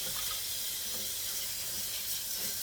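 Tap water runs steadily into a sink while collard greens are washed, a continuous close hiss and splash with no voices.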